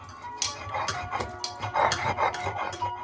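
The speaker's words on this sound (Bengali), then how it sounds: "রসুন আর কাঁচা লঙ্কাও একদম মিহি করে বেটে নিয়েছি" Garlic and green chillies are ground into a fine paste, with uneven scraping and rubbing strokes and small clinks, close and moderately loud.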